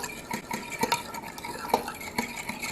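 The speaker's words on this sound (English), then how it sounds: "I'm going to mix it together with my fork." A fork stirs a lemon jell-o gelatin mixture in a bowl, scraping and clinking against the sides in quick irregular strokes, close up with no talk.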